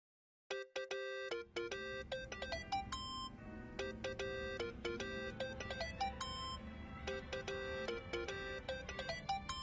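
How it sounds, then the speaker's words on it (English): A mobile phone ringtone in a video game plays a bright, repeating electronic melody of chiming tones, ringing steadily and clearly for several seconds with no talk over it. "Think that's your phone, man."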